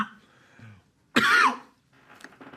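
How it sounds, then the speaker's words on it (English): A single loud, close cough bursts out in a quiet room, a short rough explosive sound lasting under half a second, with faint murmuring before and after. "Okay, you coughed, I'm coughing"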